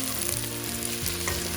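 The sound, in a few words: stirring prawns in melted butter in a pan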